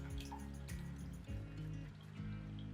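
Water poured off beets splashes and trickles steadily into a pot, a low continuous gurgling pour that surges and eases over a few seconds, close by and fairly quiet.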